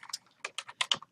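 Fingers tap irregularly on a computer keyboard, a short run of quiet, close clicks while entering accounting figures.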